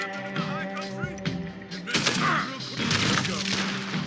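Gunfire in Red Dead Redemption 2: a burst of sharp shots and thuds over game music and background noise, dense and loud in the second half, with a voice speaking among the shots.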